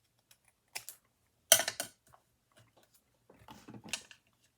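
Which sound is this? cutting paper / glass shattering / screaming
cutting paper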